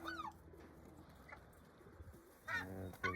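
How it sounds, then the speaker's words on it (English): A lone crow calling outdoors, a couple of harsh caws near the end over a low background rumble, moderately distant. "There's the lone crow. The one crow trying to get in there."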